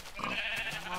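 A single sheep bleat from the video game Minecraft, a short wavering nasal cry close up and clear, with no talking.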